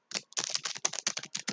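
Code being typed on a computer keyboard, a quick run of crisp, close keystrokes in uneven bursts with short pauses, no voice over it.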